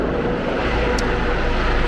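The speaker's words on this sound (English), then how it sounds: "There's another helicopter taking off from the medevac." A medevac helicopter lifts off in a Philadelphia street setting, its engine and rotor making a steady, heavy broadband roar that stays constant throughout.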